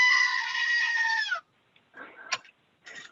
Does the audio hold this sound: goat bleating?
yes